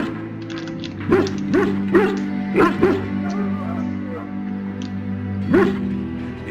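A dog in a video game barks and yips in a run of sharp, close calls, then whimpers and whines between them, with steady electronic background music underneath.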